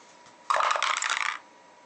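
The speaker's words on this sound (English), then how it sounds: "let's see on rolling 2 dice whether I can get 10" Two dice clatter and rattle across a hard surface in one short, bright burst of just under a second, heard alone against a quiet background.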